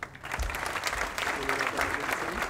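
Applause from an audience at a university law awards ceremony, a steady, dense clatter of many hands clapping that swells right after a brief pause and continues evenly throughout.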